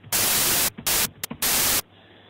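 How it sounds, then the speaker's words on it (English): Synthesized white noise from a generator in FL Studio sounds in loud hissing blocks, switching on and off sharply several times, one burst very short, over a low background hum. "this is white noise, and what you want to do is make sure you select that"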